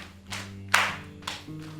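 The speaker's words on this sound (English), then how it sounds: "can't you hear someone knocking on the door?" Knocking on a door, a few sharp raps spaced irregularly over a sustained low tone, fairly close and distinct.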